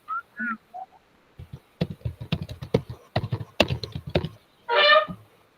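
Quick, irregular tapping on a computer keyboard, close and fairly crisp, in a run of keystrokes with brief pauses and a few short voice sounds before and after.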